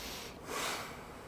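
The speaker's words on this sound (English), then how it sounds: "Take a breath in." A single short breath drawn in sharply through the nose during a full-body chiropractic adjustment, close and clear, rising to a brief snort-like peak before fading.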